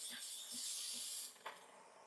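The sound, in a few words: Breville Barista Pro steam wand steaming milk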